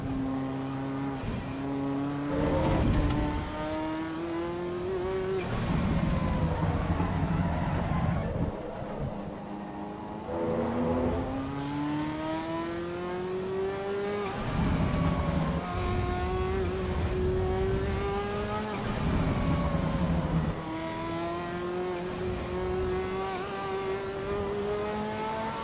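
Racing car engines in the video game Assetto Corsa EVO, loud and continuous, climbing through the revs in repeated sweeps with gear shifts and short drops between pulls.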